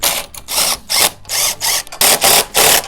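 Bracket nuts with regular and locking washers being tightened on a soil-retaining frame, eight loud rhythmic bursts of ratcheting or power-driver whirring separated by brief pauses, close and alone.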